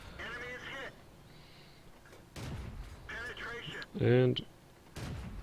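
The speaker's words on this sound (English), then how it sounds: "So I start taking shots at a moving target" A T67 tank destroyer's cannon fires in World of Tanks, several separate sharp booms spaced a second or so apart, moderately loud, between stretches of speech and game beeps.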